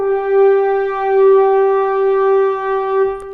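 A single sustained pitched tone held steadily, tuned slightly flat, about halfway between G and G flat, clear and alone for about three seconds before a brief click.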